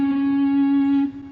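A single sustained guitar note from the opening of Pachelbel's Canon, played on the D string, rings clearly and alone, then fades off near the end.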